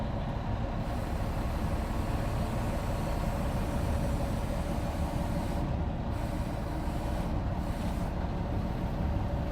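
A delivery truck drives slowly out from beneath shipping containers beside a building, its engine a steady low rumble that holds at a constant level throughout.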